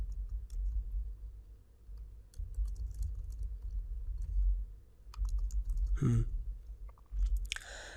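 Keys clatter in irregular bursts on a computer keyboard as HTML code is typed, close and fairly quiet over a low room hum, with a brief louder rustle near the end.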